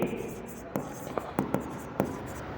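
Pen scratching on paper while narration is written by hand during a journal entry problem, with faint soft strokes and a few sharper taps under a quiet room tone.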